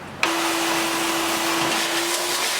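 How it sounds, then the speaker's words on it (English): A shop vac switches on with a sharp onset and then roars steadily with a high whine while sucking up debris, close and loud with no talk. "we're going to take the shop vac and we're just going to suck this up"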